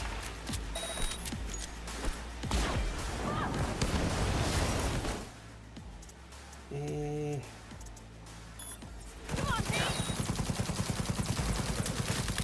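A smart gun fires in Cyberpunk 2077 Phantom Liberty in loud bursts of rapid shots, then a short lull, then a fast rattling volley near the end.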